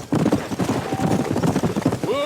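Hooves clip-clop at a steady gallop as a horse is ridden in Red Dead Redemption, the rhythmic thuds close and clear over a game soundscape, with a brief whinny near the end.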